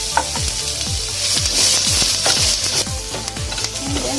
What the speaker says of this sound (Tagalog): Pag na-brown na natin yung ating garlic, isunod na natin yung ating onion.